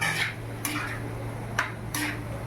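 Paneer being stirred into a pan for paneer bhurji in a home kitchen: a few sharp scrapes and clinks of a utensil against the pan at irregular intervals, close and clear over a faint background hum.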